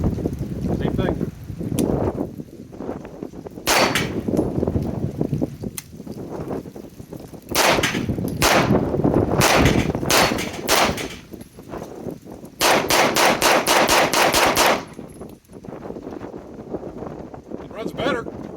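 Springfield Armory Prodigy pistol firing 124 grain S&B 9mm, with loud, sharp reports in separate clusters and a fast string of shots near the end, plus talk in the quieter gaps.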